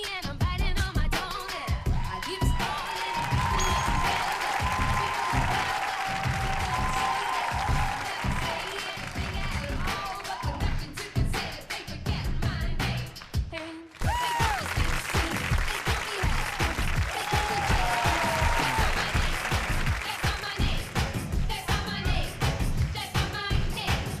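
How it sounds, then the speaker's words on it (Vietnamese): Studio audience applause welcoming a guest judge on a Vietnamese talent competition show, a dense sustained clatter of clapping with music underneath, briefly dipping midway before swelling again. "Mời quý vị một tràng pháo tay chào đón giám khảo khách mời."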